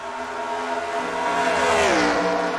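Race cars in a NASCAR-style racing video game roar past on an oval track, a steady engine drone rising into a Doppler pitch sweep as one car passes close, with no talk over it.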